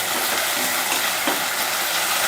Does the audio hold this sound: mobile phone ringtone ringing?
no